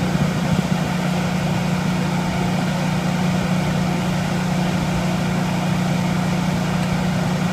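A Generac 20 kW standby generator runs on propane or natural gas during a utility outage, giving a steady, continuous engine drone with an even low hum throughout, close by and alone.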